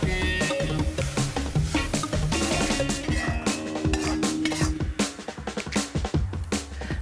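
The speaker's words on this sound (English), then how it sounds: "Here with my onions and chili and my black beans, time to fry it." Onions, chili and black beans fry in garlic oil in a pan, with dense, loud clattering and scraping from stirring and moving the food, unbroken throughout.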